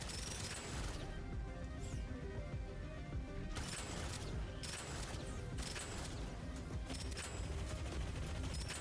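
Rapid gunfire in the shooter game Rogue Dead Zone: dense bursts of shots and impacts, loud and continuous with short gaps, with no talking.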